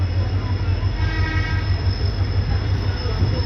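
The Kashipur–Bareilly City DEMU diesel multiple unit idles at platform 2 of Bareilly City station, its engine giving a loud, steady low rumble with a faint whine above, unbroken throughout.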